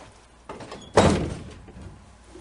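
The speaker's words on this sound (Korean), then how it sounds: "여자는 등 뒤로 손을 내뻗어 문을 닫고" A door pulled shut by hand: a light rattling creak, then a single solid thunk that rings out and fades in a quiet room.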